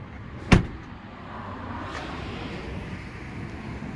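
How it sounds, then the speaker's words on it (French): A car door slams shut once, a sharp, close thud, leaving a low, steady cabin hum and faint background noise for the rest of the moment. "Pour cela je ferme la porte."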